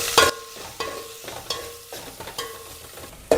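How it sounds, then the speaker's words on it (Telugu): Onions roast in a pan while a spoon stirs them in repeated scraping strokes, with a soft frying sizzle underneath and sharp metallic clanks at the start and end, close up and with no talk. "ఆనియన్ వేసి కొద్దిగా కలపండి కాసేపు, ఒక 2 minutes, ఎందుకంటే ఆనియన్స్ బాగా రోస్ట్ అవ్వాలి కాబట్టి"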